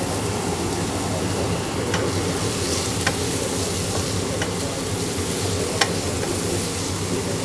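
Leftover roast duck meat being stirred and fried in a pan: a loud, continuous sizzle with occasional scraping clicks from the stirring, steady from start to finish with no voices.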